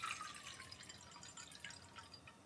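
About 200 ml of water poured into a pot to be boiled for soba broth, heard as a faint, steady trickle and splash that runs without a break, with no talk.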